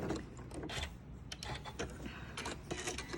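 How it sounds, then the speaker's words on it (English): Janome M7 Continental sewing machine stitching steadily, a busy mechanical whir with rapid needle clatter and repeated louder bursts, close and continuous throughout. "Sewing on the Janome M7 Continental, the Continental M7."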